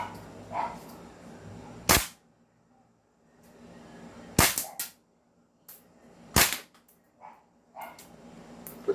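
A Micro CQB gas blowback airsoft rifle with a full steel CNC fire control group fires single sharp cracks, spaced irregularly a second or two apart, loud and close in a quiet room with faint shuffling between shots.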